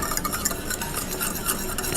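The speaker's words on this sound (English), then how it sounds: "wire whisk, so you'll mix that up" Wire whisk stirring beef gravy mix into boiling water in a pot, a steady scraping, rattling swish with bright metallic ticks against the pan, close and continuous with no voice.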